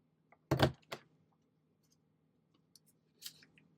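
An envelope punch board notches paper, giving one sharp crunching punch followed by a lighter click, then a couple of faint taps and a softer snip near the end, close and quiet.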